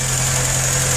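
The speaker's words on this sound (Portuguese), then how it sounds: "Vamos ver o motorzinho aqui trabalhar." A Fiat Palio engine idles steadily at close range, a low, even hum holding constant with no speech over it.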